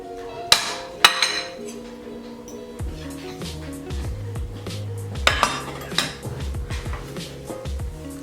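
Cutlery knocks and scrapes against a dish while cutting into loaded scalloped potatoes with jalapeños and bacon, giving a few sharp clinks and clatters close by, with someone talking through the middle.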